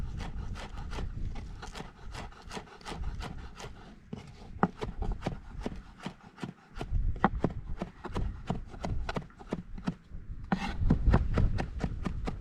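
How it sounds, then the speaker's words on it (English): Knife chopping fresh spinach on a wooden board outdoors, a brisk run of sharp, close taps in an uneven rhythm with brief pauses, fairly loud and alone. "for a bit of colour I'm chopping up a bit of spinach"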